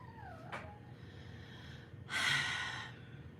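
A puppy wanting to play makes quiet, close snorts and breathy huffs, with a brief whine-like squeak early on and a short rustling burst near the end, all faint against a low background hum.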